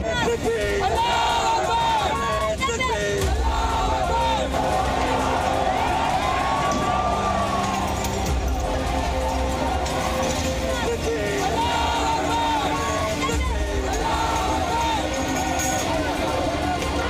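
Rioting crowd in Bengaluru amid arson and stone-throwing: a dense, loud roar of many voices with rhythmic chanting and shouting, a siren-like wail rising and falling over continuous babble.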